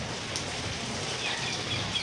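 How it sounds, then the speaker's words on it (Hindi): Steady rain falling, a continuous even hiss of drops across a wide band with a few faint bird chirps, moderate in level throughout. "वर्षा"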